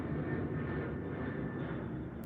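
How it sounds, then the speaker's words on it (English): An airplane drones overhead, a steady, moderately distant engine rumble with a faint whine that holds evenly across the moment, with no talking over it. "Sorry, plane is coming."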